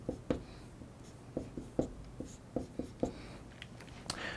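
A marker squeaks and taps on a board while chemical structures and hydrogens are drawn, a run of short, evenly spaced strokes and clicks at moderate level, with no voice over them.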